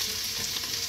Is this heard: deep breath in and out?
no